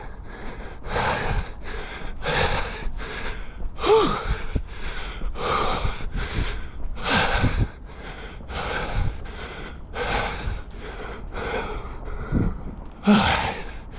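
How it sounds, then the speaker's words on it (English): Heavy, rhythmic panting from a cyclist out of breath while riding uphill toward Tokyo Tower, with repeated loud gasping breaths close to the mic and no speech. "Out of breath is good."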